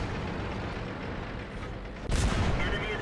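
A tank cannon shot strikes an ISU tank destroyer in World of Tanks, a single sudden heavy boom partway through, loud and sharp against steady rumbling battle noise before it.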